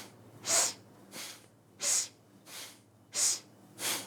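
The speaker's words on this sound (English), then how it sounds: "Inhale left, exhale right." Forceful rhythmic breathing during a twisting kundalini kriya exercise, alternating strong nasal inhales and exhales in an even pattern, six breaths close and clear with no talk.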